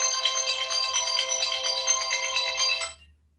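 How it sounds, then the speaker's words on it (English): A mobile phone's electronic ringtone plays loud and near for about three seconds as a bright repeating melodic chime, then cuts off abruptly into near silence. "And I forgot to turn my phone off."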